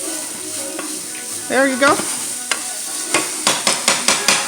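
Collard greens, habanero pepper and green onions sizzling in hot canola oil, a steady fry broken by a run of sharp, rhythmic knocks of the utensil stirring the pan, with a brief spoken remark.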